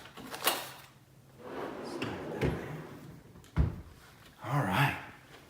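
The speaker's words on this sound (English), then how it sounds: "those are my drawers here" Desk drawers slide open and shut several times, each with a rolling scrape and a sharp wooden thump, close and fairly loud with gaps between.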